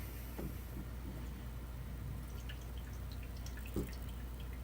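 Liquid drains from an opened can as it is strained, heard as faint, scattered drips and small trickles over a quiet, steady background hum, with no talking.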